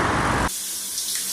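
A shower runs with loud, rushing spray for about half a second, then drops to a quieter, steady trickle of falling water.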